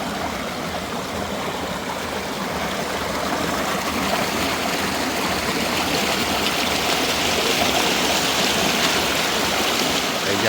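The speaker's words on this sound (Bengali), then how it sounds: "জলের সাউন্ড নিশ্চয়ই শুনতে পাচ্ছেন।" Water in a stream near a forgotten picnic spot at Jayanti in Alipurduar rushes and gurgles continuously, a close, steady flow that swells slightly louder as it goes on.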